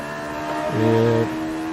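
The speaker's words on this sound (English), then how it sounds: "these cars have a very high rev limiter because as mentioned they have a Suzuki bike engine" Race car with a Suzuki motorcycle engine rises in pitch to a sustained high-revving whine, then drops back to a steady engine drone, heard from inside the car during a race.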